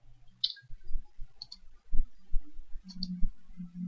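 A computer mouse clicking on spreadsheet column titles to sort data: a few crisp, close clicks spaced irregularly, including a quick double click, over faint low background hum.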